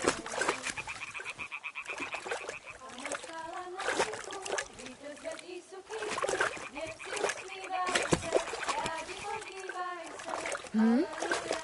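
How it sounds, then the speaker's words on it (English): A stone thrown into water in Kingdom Come: Deliverance II splashes amid frog croaks and outdoor ambience, with spoken dialogue running over much of it. "Throw a stone in the water near her to lure her away."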